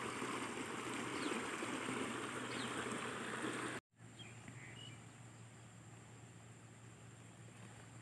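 Water from heavy rain pours and splashes down into a flooded rice field, a steady close rushing hiss that briefly cuts out, then continues more softly with faint bird calls.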